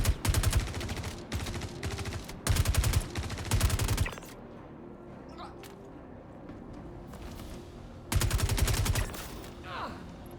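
Automatic gunfire in the shooter game Star Citizen, three loud rapid bursts of rounds separated by quieter stretches with faint distant shots and ambient noise.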